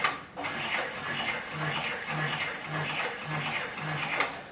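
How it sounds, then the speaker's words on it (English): A sewing machine stitching in reverse through very heavy harness and skirting leather, a steady close mechanical chatter with regular rhythmic thumps of the needle punching through. "place the machine in reverse so you can see how reliable the stitching is in reverse"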